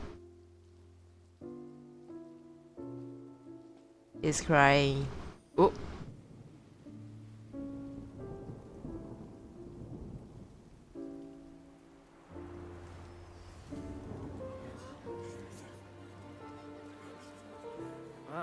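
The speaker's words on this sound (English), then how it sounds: "It's raining!" Rain falls in the Genshin Impact video game as a soft, steady patter on surfaces. Characters speak over it, and game music tones play alongside.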